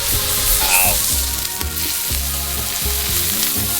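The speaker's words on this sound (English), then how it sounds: "I like to use tongs to flip my steak" A filet mignon steak sears loudly on a Blackstone griddle with butter, garlic and black pepper, giving a constant crackling sizzle broken by a few clatters of tongs flipping the meat.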